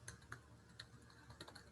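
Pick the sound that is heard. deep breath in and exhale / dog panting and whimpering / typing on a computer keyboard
typing on a computer keyboard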